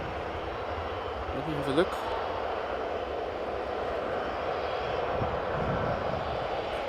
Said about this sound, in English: a 747 landing on Polderbaan